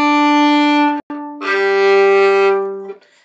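Two separate bowed violin notes on the D and G strings, each sustained for over a second with a brief break between them, played close and clear with no talk.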